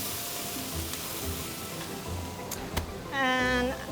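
Pork belly and udon noodles fry in a pan for yaki udon, giving a quiet, steady sizzle with a few sharp clicks and a brief tonal scrape near the end.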